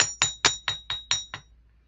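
A jewelry hammer strikes wire in seven evenly spaced, bright metallic taps with a ringing tone, each decaying quickly, then silence.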